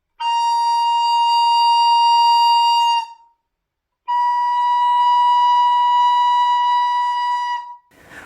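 Recorder sounding a high B-flat blown with extra air and power, two long steady loud tones separated by a brief gap, bright and close with no voices.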